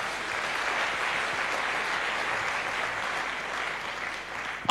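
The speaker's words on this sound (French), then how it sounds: "Est-ce qu'on peut acclamer très fort pour le Seigneur?" A church congregation applauding loudly for the Lord, a dense, sustained wash of clapping that holds steady throughout and swells at the very end.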